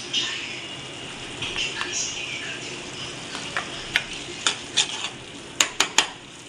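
Masala paste (vatan) goes into a pan and is stirred with a metal spoon, giving a soft sizzle under a series of sharp scraping clinks that grow more frequent toward the end.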